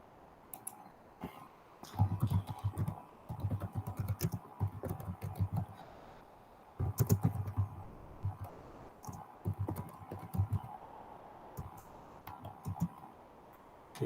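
Keys clatter on a computer keyboard as a chat message is typed, coming in bursts of rapid clicks separated by short pauses, fairly close and moderately loud over a quiet room hum.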